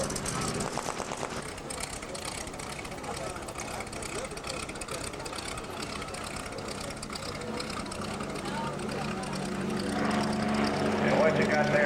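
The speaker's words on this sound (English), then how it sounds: "the four T-34s coming at you at one time very short" Four T-34 propeller planes take off together at a 1993 Texas airshow, a loud, steady buzzing engine drone that swells toward the end, with an announcer talking over it.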